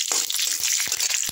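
Green chillies dropped into hot mustard oil with panch phoron for a vegetarian vegetable dish give a steady, close sizzle with crackling bursts and spits, with no talk.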